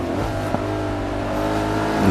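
Race car engine in Forza 5 holds a steady, rumbling drone with rich harmonics, then swells louder as it revs up near the end, heard alone without voices.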